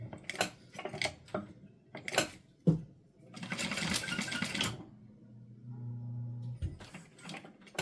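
A home sewing machine running in short bursts between clicks and handling noises, with one longer buzzing run in the middle, close and fairly quiet, then a low hum near the end.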